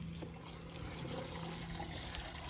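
Water flushes sediment out of a sediment basin as a faint, steady trickle and dribble running continuously, soft and somewhat distant, with no voices.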